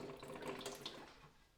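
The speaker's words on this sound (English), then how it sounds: "I'm just going to turn her upside down and let some of the solution run out." Cleaning solution runs out of the hopping valve of an upturned Pinter 2 keg: a short, soft splashing trickle of liquid, close and steady, fading out at the end.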